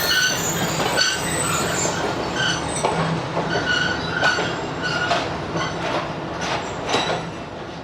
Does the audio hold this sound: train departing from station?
yes